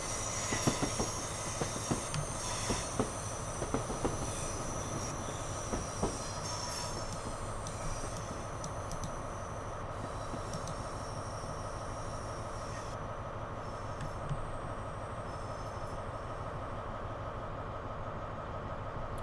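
A simulated Lumo Class 803 electric train pulls out of Glasgow Queen Street into a tunnel, with a steady rolling rumble, wheel squeal, hiss and faint clickety-clack throughout, and no one talking.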